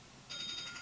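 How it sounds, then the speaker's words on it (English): A phone rings inside the crew cabin of a Boeing Starliner during a crewed launch attempt, a steady electronic trill starting partway through and repeating in short pulses, fairly faint against background hiss. "Your phone's going off."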